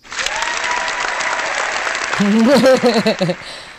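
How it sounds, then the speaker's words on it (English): A clapping sound effect in Google Hangouts, a dense patter of synthetic applause that runs steadily and then gives way to a voice talking over its fading end. "So you can have like a clapping sound, a bell ring, or you can have a birthday cake with a candle and then start clapping"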